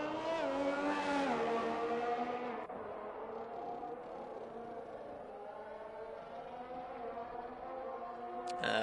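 F1 race cars in a video game at Bahrain, one steady whining engine note rising and falling through gears, fairly loud and continuous with a faint voice underneath.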